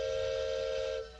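Several toy whistles blown together at once to imitate a Union Pacific freight yard, making a sustained, steady, fairly loud chord of shrill tones that drops off near the end.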